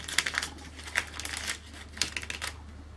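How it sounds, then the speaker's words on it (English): Backing being peeled off score tape at the end of a plastic bag: a few short crinkling, ticking bursts of plastic and paper, close and fairly faint, with no talk. "Remove the backing from the score tape"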